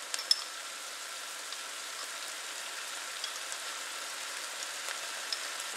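Ground turkey frying in a pan for egg roll in a bowl, a steady soft sizzle with occasional faint pops throughout, close and without talk.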